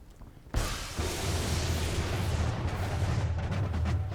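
Dense, continuous gunfire crossfire in the video game Ape Out erupts abruptly after a quiet start, a sustained rattling barrage of shots with booming low thuds filling the rest of the moment.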